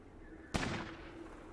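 A single shotgun blast in a Fallout game rings out as one abrupt, sharp report with a short ringing tail over a quiet background.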